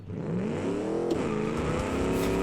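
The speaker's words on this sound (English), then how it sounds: "if I clutch dump you in second gear, are you gonna still spin the tires if I clutch dump in second?" A seven-litre V8 car in BeamNG.drive, clutch-dumped in second gear, roars steadily with rising revs and tire spin, loud and close with no pause for the full stretch.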